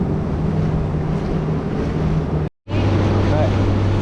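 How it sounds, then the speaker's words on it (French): Waves break and wash around a boat at sea during an offshore crossing, a loud continuous rush of water and wind buffeting the microphone, broken by a brief dropout midway, with no voices. "Les vagues, elles viennent de péter."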